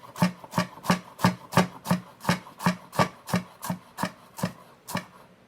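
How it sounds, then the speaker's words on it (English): Knife slicing rolled-up radish leaves into very thin ribbons on a cutting board, fifteen crisp, evenly spaced chops in a steady rhythm, close and clear with no talking. "I'm going to roll them up and do ribbons."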